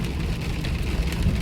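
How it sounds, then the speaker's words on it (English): Steady rain heard from inside a moving car, a constant broadband hiss and patter over low road rumble, with no voices. "I hate driving in the rain"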